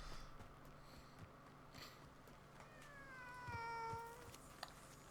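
A cat in Hogwarts Legacy lets out a single drawn-out meow, fairly quiet, over a low steady game ambience with faint clicks and no talking.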